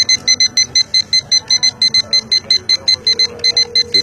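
A timer beeps in a rapid, evenly spaced series of loud electronic pulses, with a voice talking underneath the beeping.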